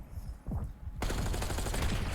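Gunfire in a video game shootout: a couple of soft shots, then a dense rapid burst of automatic fire that runs to the end, loud and close, with no talk.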